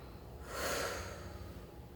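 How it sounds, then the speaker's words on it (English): A single slow, soft exhale during a Pilates shell pose on a mat, swelling and fading over about a second within quiet room tone. "Breathe and concentrate on your breath."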